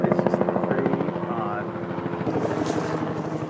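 Steady thumping rotor beat and engine drone of a helicopter overhead, loud and continuous, with people talking over it.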